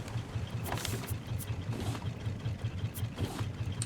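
A raft's engine running in the survival game Raft, a steady low mechanical drone that holds throughout, with a few faint clicks and light background noises over it.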